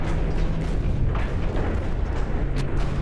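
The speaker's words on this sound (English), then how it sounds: "Another battleship goes down" A battleship exploding and going down in a naval warfare video game, heavy booming blasts and rumbling detonations layered over a dense, continuous low roar of battle.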